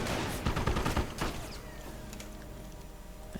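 An MG42 machine gun in a video game rattles off a fast burst of gunfire up front, then the shots thin out into fainter scattered reports and a lingering battlefield rumble.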